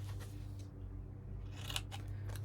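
Scissors snipping the corners off paper scraps, a couple of quick crisp cuts close up against a faint low hum.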